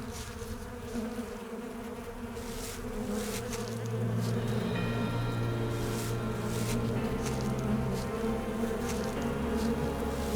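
A swarm of flies drones in the horror game Sucker for Love, a steady close buzzing that grows denser and louder after the opening seconds and persists throughout.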